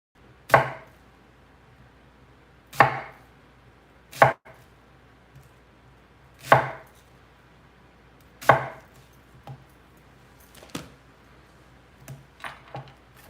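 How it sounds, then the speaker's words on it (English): A knife chops and dices onion on a cutting board in sharp, separate strikes, roughly every two seconds at first, then lighter and quicker near the end, close and clear with no talking. "dice up some onion to go in with the cilantro."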